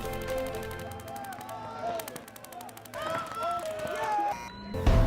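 Paintball markers pop in quick bursts during a tournament match in Chicago, scattered shots over crowd noise and a commentator talking throughout.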